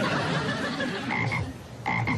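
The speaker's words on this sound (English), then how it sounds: "this is my frog, Jumpin' Jack Flash." A pet frog named Jumpin' Jack Flash croaks in a steady run of low, rattling croaks close by, with a brief pause before a final pair of croaks.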